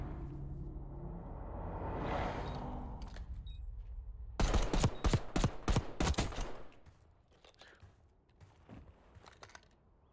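During an esports video game match, a rapid burst of automatic gunfire crackles for about two seconds mid-clip. Quieter rumbling and a few faint scattered shots come before and after it.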